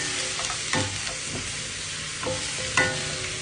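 Boiled beef added to a pan of sautéed garlic and onion sizzles steadily and fairly loud, with a few scraping stirs breaking through at scattered moments.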